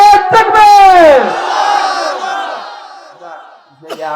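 A large crowd at an Islamic sermon gathering in Jessore roars a takbir of Allahu Akbar in response, a loud swelling mass shout that fades into a lingering murmur before a voice cuts back in.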